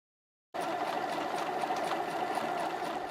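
After a moment of silence a sewing machine starts up and runs a continuous, even whirring stitch on test fabric, steady and close without pause.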